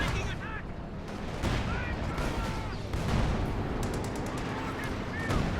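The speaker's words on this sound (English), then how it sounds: "Luckily it's actually shell landing a bit short there." Artillery shells and gunfire in a Company of Heroes 2 battle: repeated booming impacts and crackling bursts of shooting layered over dense battlefield noise, with someone talking over the action.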